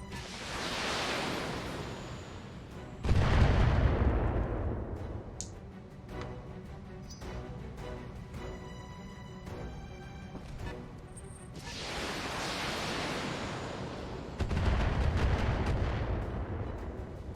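Weapons fire in a BattleTech video game session: two heavy booming salvos with long rumbling tails, separated by a stretch of rapid ticking, clattering shots in between.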